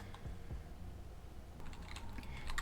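Quick clicking keystrokes on a computer keyboard, a few light taps early and then a faster burst of typing near the end, fairly quiet and close with no voices.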